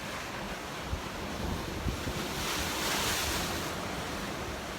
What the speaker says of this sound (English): Here, I'll show you the ocean right out there.